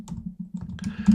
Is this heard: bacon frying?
no